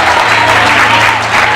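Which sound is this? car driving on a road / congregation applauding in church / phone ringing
congregation applauding in church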